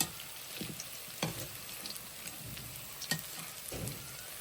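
Pakoras fry on a stove in a Pakistani village kitchen, a steady crackling hiss of hot oil with occasional louder stirring scrapes, close and without talk.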